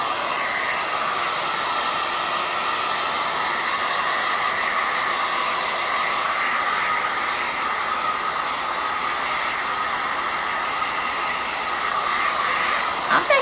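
A hair dryer blows on a freshly wiped Christmas craft board, a steady, loud whooshing hum running without a break close to the mic.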